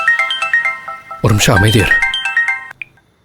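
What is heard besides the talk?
phone ringtone, incoming call from Mahesh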